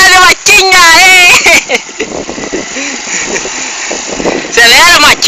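A small motorbike engine runs steadily at close range for several seconds while voices talk loudly over and around it.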